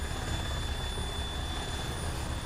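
A helicopter in a video game, its rotor chopping out a dense, steady low thrum that fills the moment at close range without letting up, with no talk.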